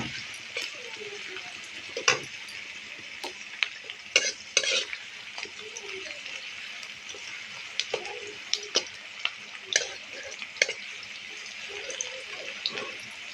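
Onions frying in oil with a bay leaf, stirred in a pan, a steady sizzle with scattered scrapes and clicks of the spoon running throughout, no talk.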